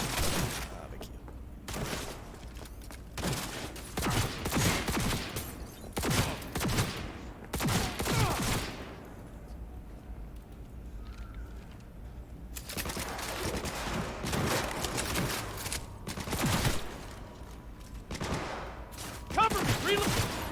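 Bursts of gunfire in the video game Cyberpunk 2077, a firefight with repeated volleys and rapid automatic fire in loud clusters separated by brief lulls, with shouted voices mixed in.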